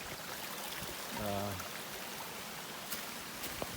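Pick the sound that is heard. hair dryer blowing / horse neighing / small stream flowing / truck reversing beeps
small stream flowing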